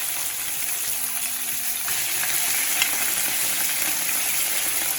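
Fish frying in hot oil in a home kitchen, with a steady, dense sizzle and crackling oil spatters that carry on unbroken and fairly loud throughout.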